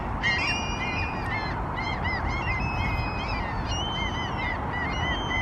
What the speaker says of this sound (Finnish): Sieltä tuli lokkeekin mestoille.